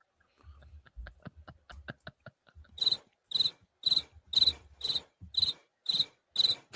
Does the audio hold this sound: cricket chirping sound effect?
yes